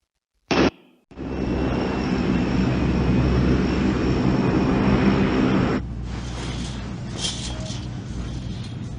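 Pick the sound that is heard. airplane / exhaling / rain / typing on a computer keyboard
airplane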